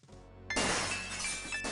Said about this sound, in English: Gabriel hears the faint sound of breaking glass